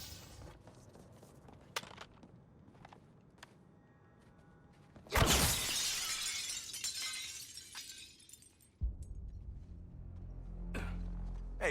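A loud burst of shattering glass in the Suicide Squad video game, a sharp crash that sprays bright debris and clatters on for a few seconds before a heavy thud, with quiet ambience around it.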